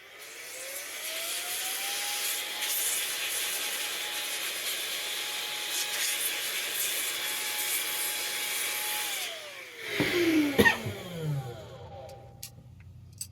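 A compressed-air burst blows dust out of a Thermaltake heat sink, a steady hissing whine rising to a held pitch for several seconds and then spinning down, followed by a few clicks and rattles.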